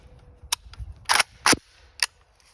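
Several sharp, close gunshots from an AK rifle fitted with a CMC 2-pound 2.0 Elite trigger, single irregularly spaced rounds, loud and cracking with brief echo tails.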